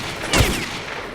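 Enemy gunfire in the shooter game STALKER: Call of Pripyat, a short burst of cracking shots landing close and loud against a steady background hiss, with no voices.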